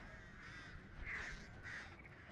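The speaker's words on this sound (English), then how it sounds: "Oh look, she became friends with the crows." Crows cawing in the video game Dead by Daylight: a few harsh caws rise over a steady, noisy ambient bed, moderately loud with no talking.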